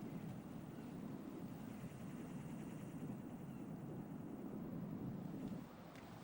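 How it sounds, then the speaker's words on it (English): A drone hovers in the Metal Gear Solid 2 game on PS2, giving off a continuous droning whir like rotor blades that holds steady for about six seconds before easing slightly at the end. "I hear this freaking drone, but where is it?"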